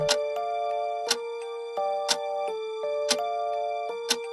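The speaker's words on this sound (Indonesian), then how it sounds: "Jam dinding tua berdetak pelan." An old wall clock ticks slowly and steadily, with a sharp tick roughly once a second over soft, sustained ringing tones in a quiet room.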